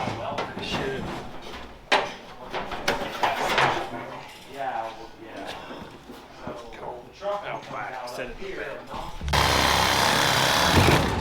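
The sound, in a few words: cutting through an engine rod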